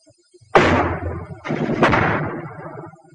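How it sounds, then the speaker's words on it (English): Two heavy mortar blasts boom from a World War II infantry training film of 1943, each a loud, sudden crash that rolls away slowly, the second following about a second after the first. "And mortar fire is high-angle fire which can slam down from the sky."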